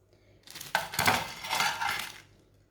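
Bread kebabs slide onto a plate with a clattering scrape and a few clinks of dish and utensil. The sound is close and lasts about two seconds with no talking.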